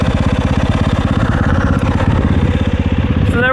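A brand new 2024 Yamaha YZ250FX race motorcycle idles steadily and close by in cold weather, its engine thumping in a rapid, even rhythm throughout.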